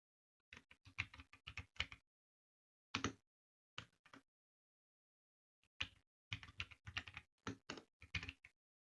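Fingers typing commands into a command prompt on a computer keyboard, quick bursts of close, crisp keystrokes separated by short pauses, with no talking.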